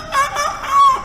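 A man imitates a rooster's cock-a-doodle-doo with his voice in the middle of a Malay-language sermon, giving two or three drawn-out, wavering crowing calls, loud and close, with no other talk over them.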